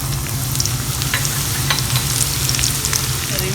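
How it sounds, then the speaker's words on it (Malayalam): A handful of finely chopped shallots fry in about a tablespoon of coconut oil, giving a loud, even sizzle with a low bubbling undertone and scattered small crackles throughout, no voices over it. "അതിലേക്ക് ഇതാ കുറച്ച് ഒരു 4-5 ചെറിയുള്ളി ചെറുതായി മുറിച്ച് ഇട്ട് കൊടുക്കുകയാണേ"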